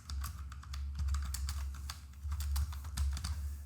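Rapid, uneven clatter of keys on a computer keyboard as visitor details are entered into school records software, close and steady with no talking.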